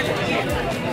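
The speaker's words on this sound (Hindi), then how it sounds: "रात के 12 बजे कितनी भीड़ हो रही है देखो" Dense crowd chatter at India Gate at midnight, a continuous babble of many voices nearby with nothing else standing out.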